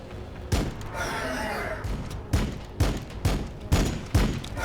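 Heavy Hellblast weapons in Battlesector, a Blood Angels campaign battle, fire in a series of loud, punchy booming blasts spaced about half a second apart, over a steady rumble of battle noise.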